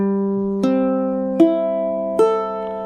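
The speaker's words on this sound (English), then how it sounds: "I'm using a low G string on this ukulele here" A ukulele strung with a low G string rings through its tuning, four single plucked strings sounding one after another, each bright attack fading slowly, clear and close with no voice.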